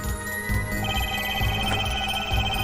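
Video game telephone ringing during a call, a steady electronic trill over dense background music and ambience, continuous and moderately loud.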